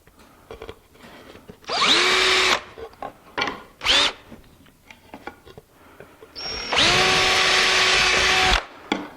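A power drill bores holes in wood in a woodworking shop, with two long high whining runs and a few short bursts in between, loud and close, alone with no talk.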